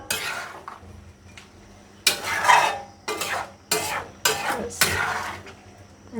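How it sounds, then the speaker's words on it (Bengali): Malancha greens tipped into a pan and stirred, with a series of sharp metal scraping and clattering strokes of a spatula against the pan over a faint sizzle, close and clear, no talking. "এবার আমি শাকগুলো দিয়ে দিই।"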